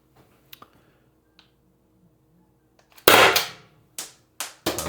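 A Byrna LE launcher firing 4.6 g LLB rounds, with a few quiet handling clicks and then four sharp, loud, close pops in a quick irregular string, no talking.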